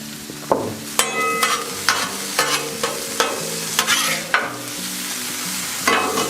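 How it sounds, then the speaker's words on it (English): Kielbasa and hash browns fry on a Blackstone griddle under a steady close sizzle, broken by a series of sharp metallic scrapes as a spatula turns and pushes the food, about once a second. "That is what we're going for when we're browning up the kielbasa."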